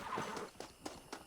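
Horse from the video game Red Dead Redemption, faint and slightly distant, with a brief whinny at the start followed by three spaced hoof thuds, no talking.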